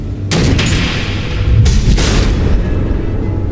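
Missiles explode in Batman: The Enemy Within, a loud, sustained boom with two sharp blasts rising over a rumbling roar, no voices.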